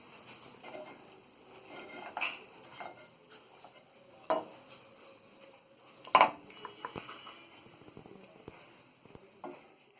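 Cooked mutton parche is scooped from the pan into a serving dish, with quiet scattered scrapes and a few sharp clinks of a spoon against metal and crockery in a still kitchen.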